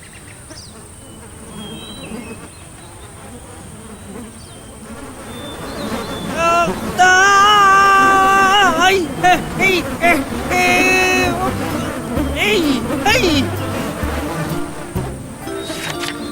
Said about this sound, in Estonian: Vastikud vampiirid need sääsed.